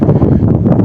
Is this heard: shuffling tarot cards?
no